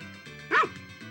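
A single short dog bark from the Harvest Moon video game, one bright yip in the middle of soft background game music.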